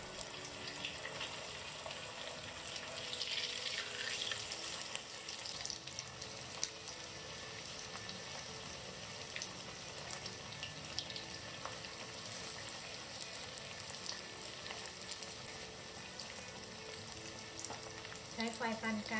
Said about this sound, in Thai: Fry the spring rolls in hot oil over medium heat.